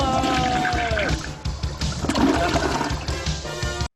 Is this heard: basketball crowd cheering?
no